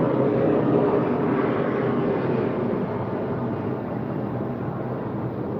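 Late at night a jet airplane taking off passes overhead, a loud, continuous broadband roar that holds steady and eases off only slightly over several seconds, with no one talking.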